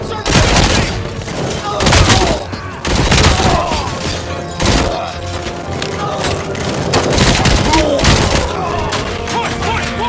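Rapid gunfire bursts in RoboCop: Rogue City crack out loud and close in repeated volleys with heavy thumps, mixed under shouted voices.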